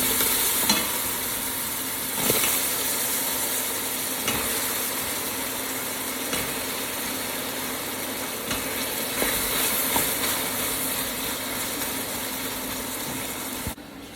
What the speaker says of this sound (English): I'm just gonna let the caramel goes bubbling around the apple